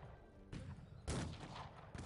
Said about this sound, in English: they actually are using the cannons to shell back now